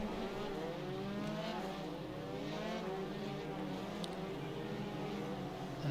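An F3 race car in the iRacing sim at Oulton Park roars continuously with a steady, loud engine note that wavers in pitch, its tyres spinning at the start, with no talk over it.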